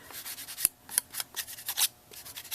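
An ink pad loaded with walnut stain is rubbed across a canvas in a series of short, dry, scratchy strokes, roughly rhythmic and close up, with brief pauses between passes and no talk.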